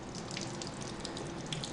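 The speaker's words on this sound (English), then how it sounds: "you're just going to put it under water. Use kind of a cool to tepid water and just let it run." Cool tap water running steadily over a potted orchid in bark, a continuous close splashing stream with soft irregular patters.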